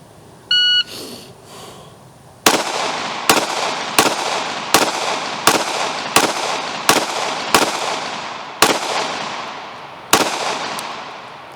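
A shot timer gives a single short electronic beep, then a SIG P365XL pistol fires about eleven sharp, loud shots in a fairly steady string of roughly one per second, each with a brief ringing tail outdoors.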